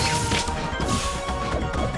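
A forward smash attack landing in the Project M Smash Bros. game, played as Ness, a punchy crash-like impact mixed into busy game music and effects, with several hits across a couple of seconds.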